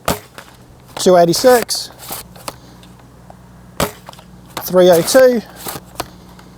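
A Worker Kunlun foam dart blaster with an upgraded spring fires heavy darts in two sharp shots a few seconds apart, each a loud snapping burst, with a person speaking between the shots.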